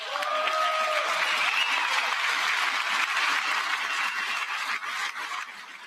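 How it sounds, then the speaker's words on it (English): An audience at a political speech breaks into sustained applause, a dense wash of clapping from many hands that holds steady for several seconds before starting to thin out at the end. "I wasn't sure if anybody even on this side was going to applaud for that."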